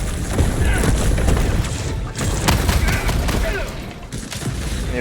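Dense, loud bursts of gunfire in the Helldivers 2 video game, rapid shots and booming blasts layered almost continuously with no pause across the stretch.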